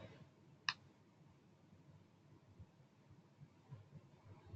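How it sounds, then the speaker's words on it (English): A single crisp computer mouse click on a login button, sharp and isolated in a quiet room, with a second faint click near the end. "I'll click on login"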